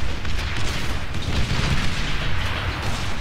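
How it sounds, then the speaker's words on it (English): Missiles launching in the Beyond All Reason strategy video game: a continuous loud roar of overlapping booms and rumbling blasts with no pause. "Launching their missiles"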